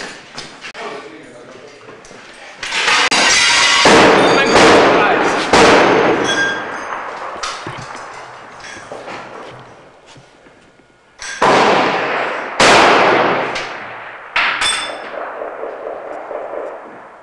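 Gunfire is exchanged in bursts of sharp, loud cracks and metallic clangs, coming in clusters with pauses between them. Voices are heard talking through the exchange.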